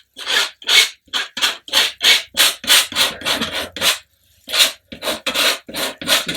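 Oil paint mixed with yellow ochre and white is rubbed into a still-life canvas in about a dozen quick rasping strokes, close and steady in rhythm, with a short pause midway and no voices.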